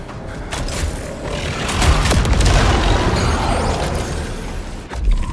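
The Annihilator shotgun fires a grenade payload in the video game Pragmata: a loud, booming blast with rumbling debris and mechanical clanks, a sharp thump near the end, and no talking.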